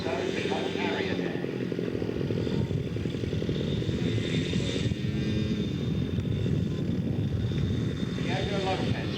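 Radio-controlled scale Airacobra model aircraft taxiing, its engine droning steadily and loud throughout at a show, with an announcer talking over it.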